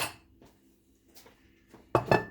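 A kitchen bowl knocks and clinks against dishes while a chicken soup with rice is being plated, with a few soft scrapes followed by two louder close clatters near the end.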